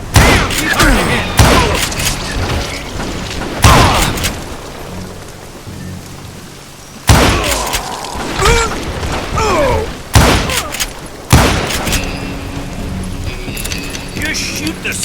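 Gunfire in the Western shooter Call of Juarez Gunslinger: loud, sharp shots crack out in irregular bursts every second or two, with reverberant tails and shouting voices mixed in.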